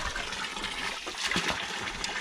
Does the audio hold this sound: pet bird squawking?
no